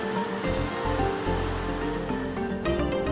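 Steady, loud churning roar of a ferry's powerful wake in the ocean below the stern, a continuous rushing of turbulent water mixed with breeze.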